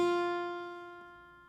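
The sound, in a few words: guitar note, first finger on first fret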